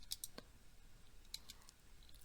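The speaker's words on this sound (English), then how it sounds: "After clicking the button" Faint, quiet clicks of a computer mouse pressing a button, a few sharp isolated ticks spread across a near-silent background with no talk.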